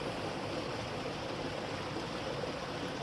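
Aquarium upflow filters run steadily in a fish tank, giving a constant close bubbling and trickling water wash with no pauses or talk.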